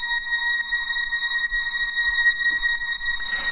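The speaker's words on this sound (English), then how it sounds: "this is the famous deep house sort of string" A deep house synth string holds an A sharp, a steady bright sustained tone with stacked harmonics and faint rhythmic pulses underneath, ending in a brief noisy swell.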